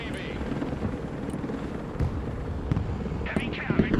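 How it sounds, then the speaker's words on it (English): A CH-53 heavy-lift helicopter in the combat game Broken Arrow drones with a steady rotor rumble, set in a noisy battle mix with scattered bangs and a few short bursts. "CH-53 heavy lift helicopter here"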